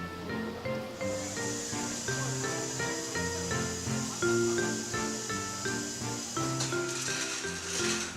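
Steam hissing from snow crab steamers at a busy seafood market, a loud continuous high hiss over a dense bed of tonal background sound, steady throughout with a brief surge near the end.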